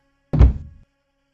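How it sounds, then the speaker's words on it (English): A single dull wooden thud as a head strikes a piece of furniture, a short heavy knock that decays quickly into silence. "With a dull wooden thud,"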